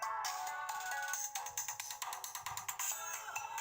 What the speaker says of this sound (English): can't get my phone to shut up.